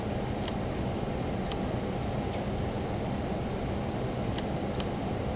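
Lear Jet engines spooled to takeoff power in a flight simulator, a steady broad roar filling the whole clip with a few faint ticks over it and no talk.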